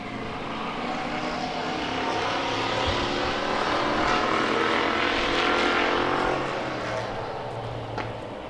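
Hobby Stock race cars roar off at the start of a 10-lap heat race, a dense, loud wall of engine noise that swells as the pack passes close by, then eases slightly. No voices can be heard.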